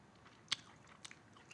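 Teeth bite into a crispy cheese costra taco, giving one sharp close crunch followed by a couple of softer crackles while chewing begins. The whole bite is quiet.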